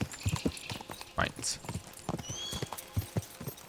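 Horse hooves clip-clop in a steady rhythm while riding in Kingdom Come: Deliverance II, close and clear, with a brief neigh and a player speaking over the hoofbeats.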